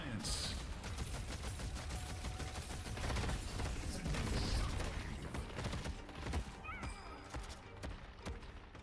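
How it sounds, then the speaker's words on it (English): Chaotic video game combat with siphon bullets striking the player, a dense wash of rapid gunfire, impacts and mechanical clatter layered over one another, loud and continuous throughout. "I'm being hit by siphon bullets"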